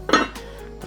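A lid set down on a frying pan with a short metallic clink, a single close, brief contact while pork tenderloin simmers in stock for a mustard sauce.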